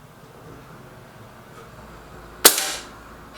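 A single sharp crack of a Lee Enfield rifle firing, sudden and loud against quiet outdoor background, with a short decaying tail after the report.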